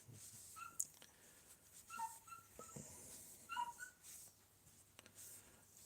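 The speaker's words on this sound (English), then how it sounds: "That's our wee new dog, Eddie." Eddie, a small young pet dog, lets out a few soft, high whimpers and whines in short bursts, faint and close in a quiet room.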